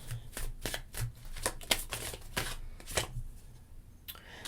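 Tarot cards being shuffled by hand, a quick series of riffling, flapping bursts in an irregular rhythm, close and clear with no talk over them.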